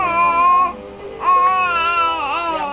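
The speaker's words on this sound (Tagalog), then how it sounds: "Yan palang baby. Yan ang maingay." A baby cries and babbles up close, loud wailing bursts broken by a brief pause, then rising again with wavering, whiny babble.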